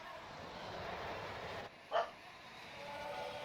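A single dog bark, short and sharp and somewhat distant, cutting through a steady background hum in the early morning.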